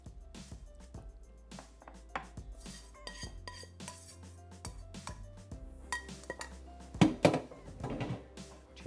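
Pots, pans and metal cutlery clink and scrape in a home kitchen as food is dished out, with irregular close knocks and clatters and a louder burst of clanking near the end, and no talking.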